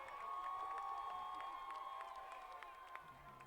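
A high school football crowd roars after a Hudson touchdown, a sustained distant wash of cheering from the stands with whistle-like tones and scattered shouts ringing over it.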